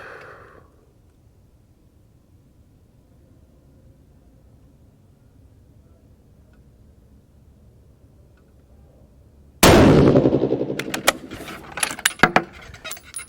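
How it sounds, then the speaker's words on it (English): A 6.5 PRC rifle firing 147 ELD rounds loaded with StaBall HD powder gives a sudden loud blast after a long quiet stretch, followed by several sharp metallic clatters and clicks. "Let's get these 10 rounds down range."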